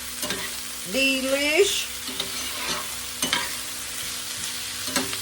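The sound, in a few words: broccoli stir-frying in a pan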